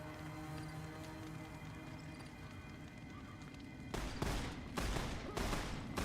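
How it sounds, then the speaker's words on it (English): Rapid bursts of gunfire in Fallout New Vegas break out after steady game ambience, with several loud volleys in quick succession toward the end. "Oh, they're shooting at something."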